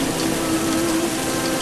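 Heavy downpour during the 2015 Chennai floods, a dense continuous roar of rain with a faint steady tonal hum underneath, loud and unbroken throughout.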